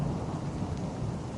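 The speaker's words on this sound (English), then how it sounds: "Thunder clapped near the lodge and rattled the window panes." Steady rain falls with low thunder rumbling through it, a dense, continuous roar near a lodge in a valley, with no distinct single crack standing out.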